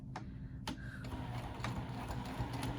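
A sewing machine back stitching a seam on a patchwork bag, a steady low mechanical whir with a few sharp ticks and clicks, close and fairly quiet.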